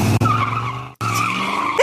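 Loud tire squeals from a skidding car ring out in two sustained screeches, split by a brief gap, as a sound effect with no talking.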